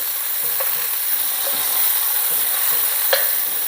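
Beef sizzling steadily in a hot pan, with a constant bright hiss and a few faint ticks and pops, no talking.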